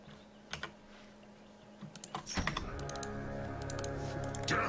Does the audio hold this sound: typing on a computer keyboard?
yes